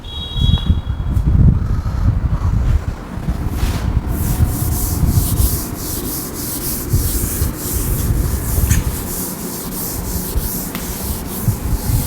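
Writing being rubbed off a classroom board: continuous dry scrubbing strokes, loud and close, rasping back and forth in an uneven rhythm, with no voices.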